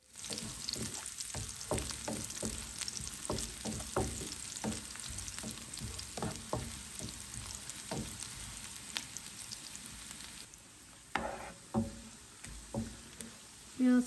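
Four dried red chillies sizzle and crackle in hot oil while dal is being made, producing steady close frying spatter with scattered pops that thins out toward the end.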